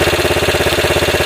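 A transplanted $150 eBay engine idles in a Honda XR80 motorcycle, a loud, close, steady low thumping with an even rapid firing pulse and no talk over it.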